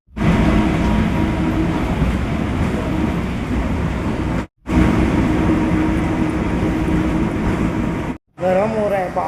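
Steady rumbling ride noise inside a moving monorail car, loud and continuous with two brief cuts to silence, and a voice talking over it.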